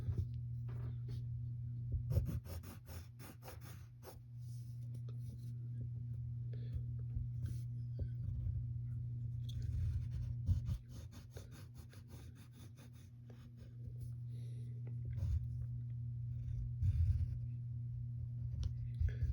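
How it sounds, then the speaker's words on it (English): Pen drawing gloves on paper for a cartoon figure, giving soft, continuous scratchy strokes and small taps, faint and close over a steady low hum with quiet breathing. "now we draw her gloves"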